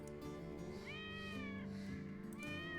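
A cat meows repeatedly in a drawn-out, wavering tone, loud and close, over a steady background hum with no talking.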